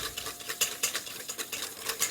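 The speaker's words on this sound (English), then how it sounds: "if you're using a whisk, you just want to get started blending those ingredients, and the oil goes in slowly" A whisk beats oil into a vinaigrette in a bowl, rapid rhythmic metallic strokes ticking close and loud, with no talking.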